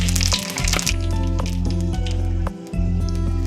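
Panch phoron with dried red chillies and bay leaves sizzling in hot oil in a kadai, a close crackling hiss with spattering pops over a steady low hum.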